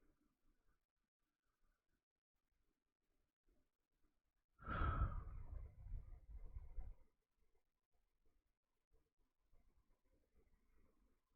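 A single slow, deep breath taken in meditation, a soft airy sigh lasting about two seconds in otherwise near-silence, close and quiet.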